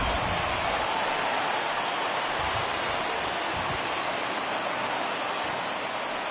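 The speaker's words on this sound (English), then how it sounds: "Yeah, the rain starting to intensify here. It's coming down a little heavier now." Steady, heavy rain hissing down over a baseball stadium in MLB The Show 20, a dense continuous wash of drops with no talk and a few low thumps underneath.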